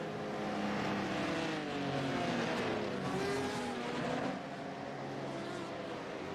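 Race cars in the iRacing sim on the Charlotte Roval threading a chicane, engines droning loudly and steadily as revs rise and fall through the corner, with tires faintly scrubbing.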